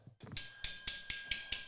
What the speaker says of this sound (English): Press the bell.